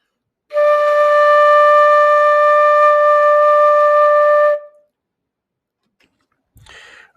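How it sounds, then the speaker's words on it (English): A flute holds a single steady D note for about four seconds, clear, close and alone, followed by silence and a faint brief noise. "The D should sound like this."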